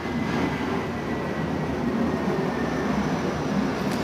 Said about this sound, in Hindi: हवाई जहाज़ यहाँ से जाते रहते हैं तो ये शोर लाजमी है